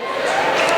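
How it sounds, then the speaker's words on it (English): Student fans in a high school gym at a WIAA Division 5 boys basketball sectional game, a loud, continuous crowd roar of mingled voices and cheering in a brief burst. "Good crowd on hand for both sides."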